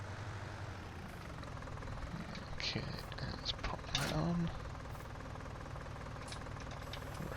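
A grubby little tractor engine chugs steadily in a farming game, a constant low drone with a few mechanical clanks and clicks as an implement is attached, while someone talks over it briefly.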